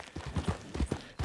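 A horse's hooves clop at a walking pace on the ground in the video game Red Dead Online, about six close, dull, evenly spaced footfalls.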